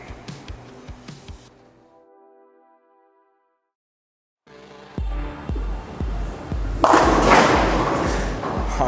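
Roto Grip Optimum Idol Pearl bowling ball thrown on a lane: a release thud, a long rolling rumble, then a loud clatter of pins scattering near the end, fairly close and loud, with no talk.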